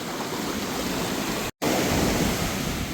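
Ocean waves surge and crash steadily on a beach in Adelaide, a dense continuous roar of surf close by, broken by one very brief gap of silence midway.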